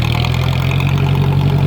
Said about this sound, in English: this is a gas burner. It's not a diesel tractor.